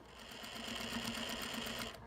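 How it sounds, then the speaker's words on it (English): A sewing machine runs a stay stitch around a long-sleeved blouse in one steady, rapid mechanical whir of needle strokes, close and continuous, stopping abruptly at the end. "we're just going to do a stay stitch all the way around to hold"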